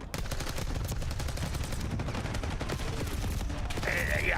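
Rapid bursts of gunfire from a Call of Duty match at the CDL Champs 2025, dense repeated shots running continuously and loud throughout, with a brief rising electronic tone near the end.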